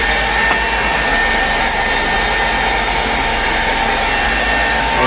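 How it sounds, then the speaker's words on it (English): A hair dryer blows steadily on wet clothes, a loud, constant whirring roar close by with no breaks. "We spent the last 3 hours blow drying all of our clothes and stuff"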